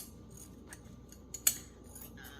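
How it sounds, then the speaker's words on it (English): Scissors snipping through fabric, a few quiet cuts then a sharper clip near the end, close and soft against a near-silent room. "I'm just picking up a fabric and cutting it."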